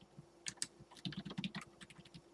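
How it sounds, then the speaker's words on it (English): Rapid typing on a computer keyboard, close and fairly quiet, with irregular bursts of clicking keystrokes and no talking. "I'm typing the chat real quick."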